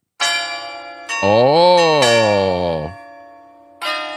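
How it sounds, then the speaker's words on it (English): Bells ring out during a livestream in a few bright chiming strikes, one long sustained tone swelling in the middle before fading, with a single brief voice exclaiming. "Those bells are for you."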